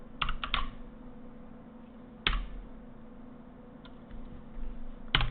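Keys clatter on a computer keyboard as a keyword is typed, in short scattered bursts of clicks with pauses between them. The sound is close and fairly quiet, with no talking.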